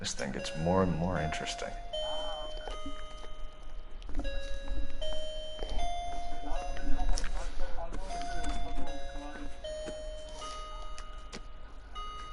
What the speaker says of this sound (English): my clock is making a chiming noise.